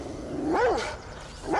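A big dog barking close by, two deep, drawn-out barks with a pause between them.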